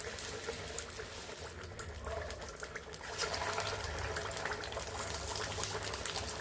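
Sweet corn fritter batter frying in heated oil, a steady close sizzle and crackle that grows slightly louder partway through, with no talking.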